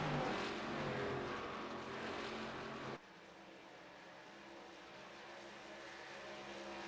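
ARCA race cars roar along a track at the tunnel turn: a loud, dense engine wash that drops abruptly partway through to a steadier, quieter drone of cars farther off.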